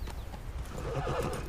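A horse in a video game neighs loudly over steady clip-clopping hooves, close and continuous for the whole stretch with no voices.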